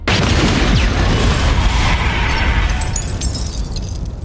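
A bomb thrown from Harry's glider explodes in a Spider-Man film fight with the symbiote, a loud sustained roaring blast and rumbling debris that stays heavy throughout before easing slightly toward the end.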